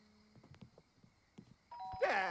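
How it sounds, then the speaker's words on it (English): A doorbell chimes in The Sims 2 at a house door as guests arrive, a bright two-tone ding-dong rising clearly at the end after soft scattered game sounds and faint background tones. "Okay, you're still gonna ring the bell?"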